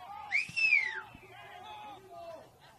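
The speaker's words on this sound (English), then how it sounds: "There's a lot of spectators doing their own whistles for the full time" Spectators at an NPL Men's NSW football match in Mount Druitt, Mt Druitt Town Rangers against Manly United, let out a rising-and-falling whistle for full time over a low crowd murmur.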